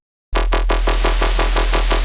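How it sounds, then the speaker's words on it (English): White noise oscillator in a Serum 2 synthesizer switches on abruptly after brief silence and holds as a loud, dense hiss, with a steady low drone under it and a regular pulsing wobble throughout. "Loving the new color white noise"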